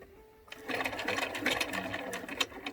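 A sewing machine stitches down the pleats of a fabric face mask, running in a steady rapid whir after a brief quiet start, close and fairly soft, with no talking.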